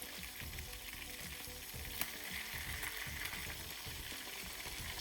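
Fish frying in oil on a bed of lemongrass on a hot rock surface after being flipped, a continuous close sizzle and crackle with a faint stirring scrape and one sharp pop, no voices.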